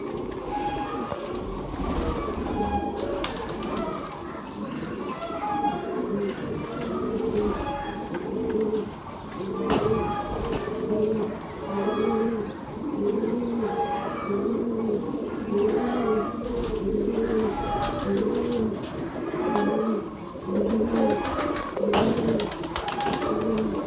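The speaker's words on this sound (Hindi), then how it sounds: "मैं एक और आपको कबूतर का शो करवाता हूँ, चीने कबूतर का" Chinese pigeons coo steadily in repeated soft, rolling phrases. Several birds overlap at close range, with occasional sharper clicks and faint background noise throughout.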